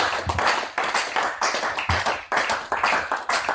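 A church congregation clapping together in rhythmic rounds during a wedding service, the claps sharp and close, roughly steady in tempo with brief pauses between groups.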